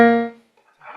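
A B flat key on a keyboard, pressed softly, gives a single clear tone that fades over about half a second, followed by faint rustling.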